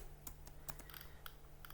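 Quick keystrokes tap on a computer keyboard in an uneven burst, several light clicks close by and fairly quiet, ending with a firmer key press, over faint background hum.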